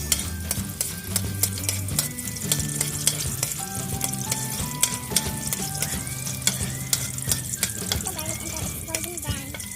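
Garlic sautéing in hot oil as a first step for mung bean sprouts gives a steady sizzle and frying hiss, with utensil clinks and stirring scrapes throughout, under background music.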